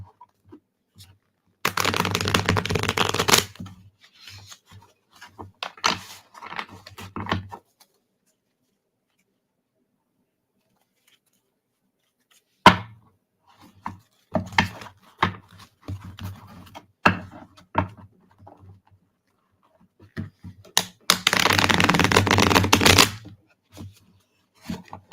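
A deck of tarot cards is shuffled in two loud, dense riffling bursts near the start and end, with lighter card taps and handling clicks scattered between and a long quiet gap in the middle.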